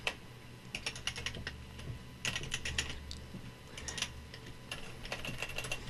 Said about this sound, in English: First, got to learn to type.